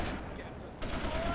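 Continuous gunfire from a rampage in the video game GTA: Liberty City Stories, a dense, steady stream of shots with a sharper burst near the end, played under a commentator's voice.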